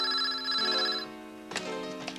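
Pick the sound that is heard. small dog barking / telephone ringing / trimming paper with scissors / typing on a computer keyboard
telephone ringing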